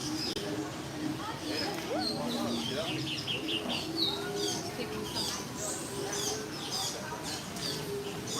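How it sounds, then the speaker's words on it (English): Birdsong at Disney's Animal Kingdom, a steady mix of chirps, tweets and cooing calls from a bird perched on a branch, with people talking throughout. "this bird's showing off that branch"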